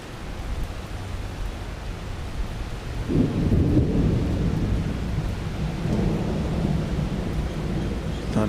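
Thunder rolls in during a rainstorm at Dallas Love Field airport, a low rumble swelling partway through over a steady hiss of rain and then lingering at a loud level, with no talking.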